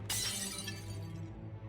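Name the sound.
hammer shattering a mirror in the video game Shadowgate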